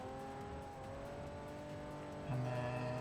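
In the Forza Motorsport 4 racing game, a race car engine hums with a steady tone as it drives a circuit, then surges louder in a sudden burst near the end. No one speaks.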